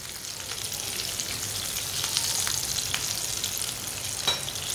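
Shami kebabs fry in a pan with a continuous, close, hissing sizzle and occasional small pops, steady throughout with no voices.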